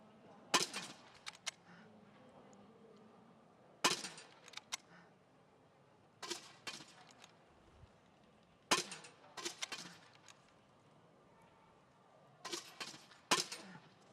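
At a para biathlon range in Beijing 2022, the women's 12 km standing event, small-bore rifle shots ring out in evenly spaced cracks, each with a short metallic rattle. About five or six shots stand out against quiet crowd ambience.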